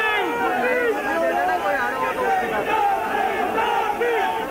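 A large crowd at a statewide political protest march in Jaipur, many voices shouting and chanting together in a dense, steady roar with overlapping babble, close and loud throughout.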